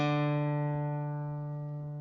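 A single open D note rings out on a guitar's fourth string for the opening of a riff, sustaining alone and slowly decaying over about two seconds.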